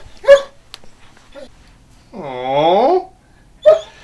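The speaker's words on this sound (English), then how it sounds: "This is my dog, Mini Macho Man." A small dog barks sharply twice, once near the start and once near the end, with a drawn-out, wavering whimper between the barks. The sounds are close and loud, separated by quiet pauses.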